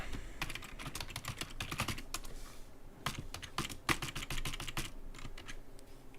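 Rapid, continuous typing on a computer keyboard during a live coin auction night, with dense clusters of clicks and sharper key strikes at a moderate distance, and no speech.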